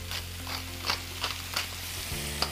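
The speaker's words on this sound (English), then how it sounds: "just let them saute for about 5 minutes" Vegetables seasoned with salt and pepper sauté in a pan, giving a steady close sizzle with a few soft clinks and scrapes from stirring, plus a low hum underneath.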